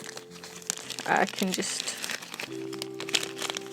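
A ripped seed packet is crinkled and pushed into a small plastic bag, making close, crackly rustling bursts in the middle while a person talks over it.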